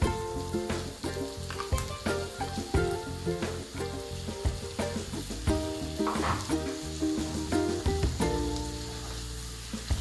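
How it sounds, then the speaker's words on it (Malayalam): Prawns and sliced onions shallow frying in hot oil for a prawn roast, a close, steady loud sizzle with crackling bursts and occasional stirring clatter throughout. "ഈ എണ്ണയിൽ ഈ ചെമ്മീനും സവോളയും എല്ലാം കൂടെ ഒന്ന് ഷാലോ ഫ്രൈ ആകുന്നവരെ തീ കൂട്ടിയിട്ട് കൊടുക്കാം."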